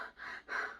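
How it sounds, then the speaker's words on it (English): A person panting to catch their breath: two quick, airy breaths close to the listener, each rising and falling sharply with a brief gap between them. "so that is your pant"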